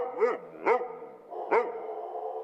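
Several dogs bark at an animal shelter in Santa Clarita, four sharp barks landing irregularly over a steady background of kennel noise, fairly close and loud, with no talking.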